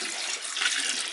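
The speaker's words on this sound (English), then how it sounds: "I'm just going to add in a couple of liters of water" Water pours steadily into a wine-making fermenter for a Bergamais wine kit, a broad continuous splashing rush heard up close with no talk over it.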